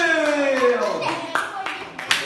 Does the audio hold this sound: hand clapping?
yes